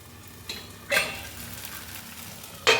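Potato pancake batter sizzles in a hot pan, a steady frying crackle with a few louder bursts, including one near the end.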